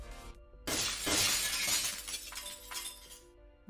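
A brittle shattering sound effect for a frozen tar bubble breaking underfoot, a loud burst of crackling, splintering debris that tails off into scattered tinkling fragments.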